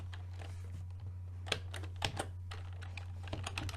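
Quiet typing on a computer keyboard, uneven clusters of soft key clicks with a few louder taps over a low steady hum.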